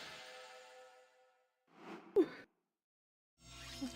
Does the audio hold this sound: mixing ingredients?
no